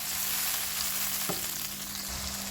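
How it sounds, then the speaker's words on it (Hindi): Tomato paste frying steadily in a pan for daal, a constant close sizzle with a brief stir-like tap midway and no talking. "अब हम अपने 2 जो टमाटर लिए उसका पेस्ट ऐड कर देंगे ऐसे, और इसको अच्छे से हमने फ्राई कर लेना है।"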